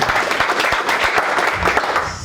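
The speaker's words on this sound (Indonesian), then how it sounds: "Berikan sorak-sorai buat Tuhan." A church congregation claps and cheers together, a dense, loud burst of applause with scattered shouts throughout.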